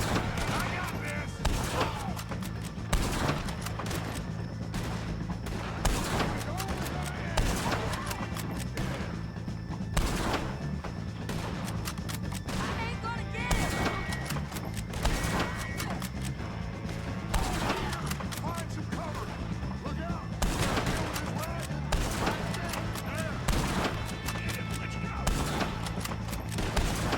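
Rapid bursts of gunfire crackle throughout a shootout with O'Driscoll gang members in Red Dead Redemption 2, shots overlapping densely over steady game background noise with voices heard intermittently.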